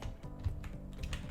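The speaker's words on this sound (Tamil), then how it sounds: "நான் வந்து சும்மா கண்ணை மூடிட்டு டைப் பண்ணலாம் அதாச்சு" Soft, quick keyboard typing in a brief burst of scattered clicks, fairly faint and with no talking.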